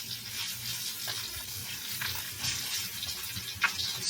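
A salmon fillet pan-frying with its skin crisping sizzles steadily with a bright crackling hiss, spattering pops rising now and then, close and moderately loud.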